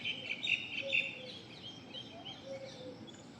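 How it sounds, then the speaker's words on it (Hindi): Birds chirp outdoors on a quiet morning, with a few clear tweets and calls rising over a soft ambient background and repeating irregularly. "कोई पक्षी की आवाज, ब्यूटीफुल मॉर्निंग, एक शांत वातावरण"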